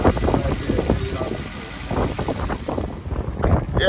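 Wind buffets a camera microphone outdoors beside a 2009 Hyundai Santa Fe 3.3L V6, heavy low rumbling gusts that rise and fall, with a voice faintly underneath.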